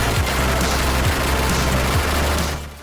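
Rapid, dense gunfire rattles without pause in a retro-style shooter video game played on a PS5, loud and constant with rhythmic low thumps, fading at the very end.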